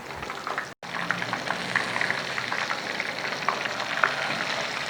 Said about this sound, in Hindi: ऑयल गर्म करने के लिए जो रखा हुआ था अब गर्म हो गया है। जितनी गुंजाइश हो फ्राइंग पैन में उतनी ही है चिकन के पीस डालिएगा।